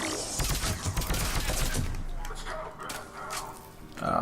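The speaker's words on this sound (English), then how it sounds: "I noticed the gun fires in blocks of 3" Rapid gunfire from a weapon shooting in three-round bursts during combat in Mass Effect 3 at a Cerberus fighter base, dense and loud at first, then thinning to scattered distant shots, with someone talking over it.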